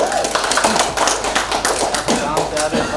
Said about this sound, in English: let's give a big hand to Bombay again